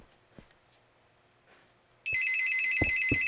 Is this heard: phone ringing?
yes